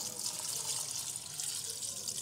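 Water is poured from a vessel into a pan of potato and papaya curry, giving a steady, close splashing stream that runs for a couple of seconds without speech.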